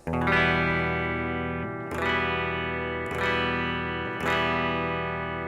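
A single guitar chord, played with the low E string open, is strummed four times at a slow, even pace, each strum ringing out and fading before the next; no one speaks.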